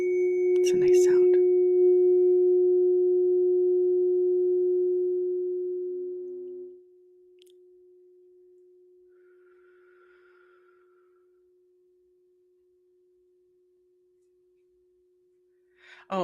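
A struck tuning fork rings out with a clear, pure steady tone after a brief tap at the start. The tone holds loudly for several seconds, then drops to a faint lingering hum that fades slowly, ending with a short knock.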